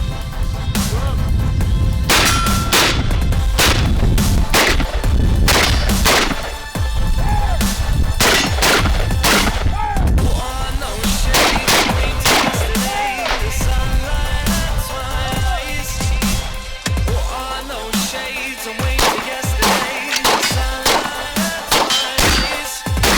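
Gunfire at tactical shooting practice, loud close shots fired in quick irregular strings and bursts with sharp cracks and echoing booms, continuing for the whole stretch with brief pauses.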